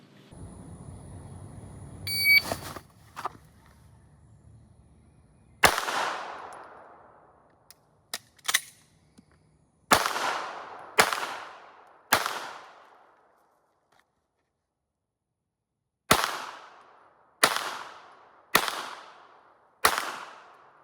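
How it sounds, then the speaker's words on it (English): A handgun drawn from a holster and fired during an FBI concealed-carry qualification test, four rounds standing, then four more kneeling. Loud, sharp, close shots come in uneven bursts, with one longer pause between the two strings. "From the holster, draw and fire 4 rounds from standing up, drop to kneeling, and then fire 4 more rounds in 20 seconds."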